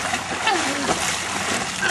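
A body splashes into the water of Vaisaulu Pool at Lalomalava, Savaii, Samoa, a close, broad wash of churning water under excited voices talking and calling out.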